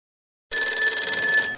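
A telephone bell rings once after a short silence, a loud, steady electronic trill of a little over a second that then cuts off, with no one talking.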